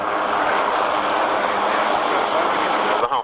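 Belgian Air Force Red Devils formation jet team flying at an airshow, a steady loud broadband roar sustained throughout, briefly dipping near the end.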